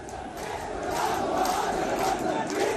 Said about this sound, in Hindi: यहाँ पर नारेबाजी हो रही है